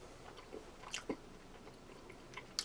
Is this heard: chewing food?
yes